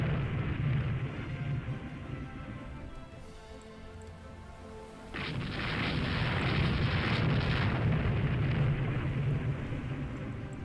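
Naval gun battle at night in the warship game Rule the Waves 2, with a Soviet destroyer firing: rumbling booms and crackling blasts, fading midway, then a louder sustained barrage of explosions rolling on to the end.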